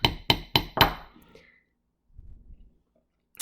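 A hammer spreads metal into a smooth mushroom cap over a nut while making a beaded teardrop pendant, striking four sharp, evenly spaced taps close by before falling quiet apart from faint handling rustles.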